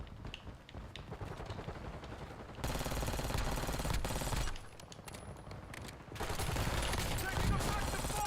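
Video game gunfire in an Unreal Engine 5 shooter, bursts of rapid automatic fire in dense volleys broken by short lulls, fairly faint and steady throughout.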